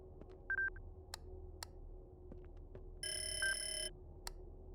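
A telephone rings in the game Ghost Exile, a short electronic trill followed by a longer bright ringing burst, with scattered clicks and faint ticks against a quiet hum.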